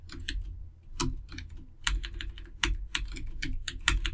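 Keys clatter on a computer keyboard while Odia text is entered into wedding card layout software, a close, steady run of clicks in short bursts with brief pauses between words.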